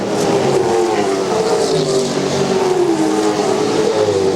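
V8 Supercars from the 2000 Shell Championship Series racing on the Canberra Street Course, a loud, close, sustained engine roar with rising and falling revs as cars queue nose to tail, no voices over it.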